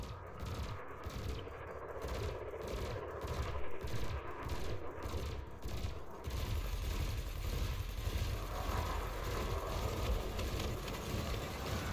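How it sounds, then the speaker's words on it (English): Gimbaled spaceship weapons in the space game Elite Dangerous fire rapid, evenly spaced shots for about six seconds over a constant engine hum, which carries on alone after the firing stops. "Your ship's gimbaled weapons offer a degree of aiming assistance."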